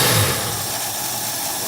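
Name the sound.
car engine idling, not yet warmed up, choke partially closed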